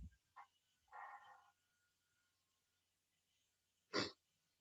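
During a sixth-grade science class, a student with rhinitis gives one short, sharp sneeze that stands out clearly against near silence. It comes after a couple of softer breathy noises, and no one talks over it.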